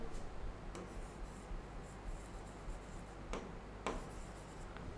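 Writing on a board: quiet scratchy strokes and faint rubbing with a few sharper taps, soft and intermittent over a low room hum, with no one talking.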